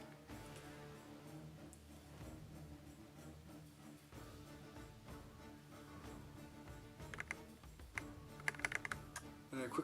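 Computer keyboard typing during a Hellish Quart fencing-game tournament, soft rapid clicks sitting low under a steady musical background, with a sharper burst of keystrokes near the end.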